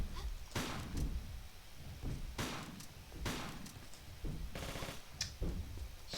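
Gunfire in Tomb Raider 4 at Giza: repeated sharp shots spaced a second or so apart, with a quick rattling burst near the end, loud and close over a low rumbling backdrop.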